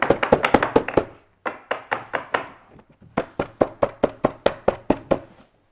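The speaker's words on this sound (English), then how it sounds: "you can kind of like start to like knock off the salt" Repeated sharp taps of dried salt being knocked off a watercolor painting of summer popsicles, a fast burst of about nine knocks, a pause, then a few more and a steady run of evenly spaced taps, close and distinct with no talk.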